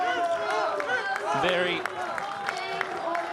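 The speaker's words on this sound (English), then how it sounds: "thank them for the applause" Crowd applause and cheering at a snow polo World Cup match between Brazil and Chile, a steady wash of clapping and crowd noise running under a commentator's continuous speech.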